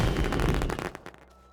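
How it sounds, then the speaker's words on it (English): Fireworks ignited in the video game Astron: a dense rapid crackle of popping bursts that thins out and fades after about a second. "And I also found some fireworks."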